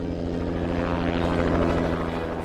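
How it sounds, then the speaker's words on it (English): Private helicopter carrying passengers from New York to a wealthy family's estate in Maine, heard as a steady, loud rotor and engine drone with a pulsing low throb that stays constant throughout, with no voices over it. "From New York, we were transported by private helicopter to the Pearson estate of Maine"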